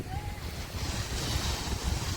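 Surf rolls onto Pasir Putih Karang Pandan beach in Cilacap, a continuous broad wash of waves mixed with wind buffeting the microphone, filling the whole stretch.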